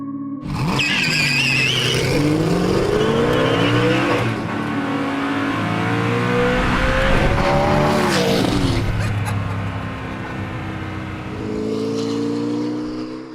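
A Rimac Nevera electric hypercar with 1,914 horsepower, four electric motors and four gearboxes accelerates hard, its motors whining up through rising pitch sweeps while the tires squeal loudly and continuously for over ten seconds, close by.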